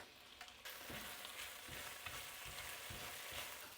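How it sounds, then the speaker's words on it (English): Dried chilies sizzle and fry steadily in hot oil in a pan, a dense close crackle with soft rhythmic stirring scrapes, no voices. "Now to the pan, I'm going to add some more oil, and I'm going to add our dried chilies and just cook it a bit"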